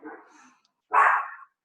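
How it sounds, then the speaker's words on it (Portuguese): A dog gives a soft, muffled bark or yip, followed after a brief pause by a single louder, fuller bark close by. "tem um cachorro aí aqui, ó."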